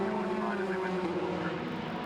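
F3 Cup race cars at Brands Hatch in 2016, heard as a steady, fairly distant engine drone with a tonal whine under a race commentator's voice.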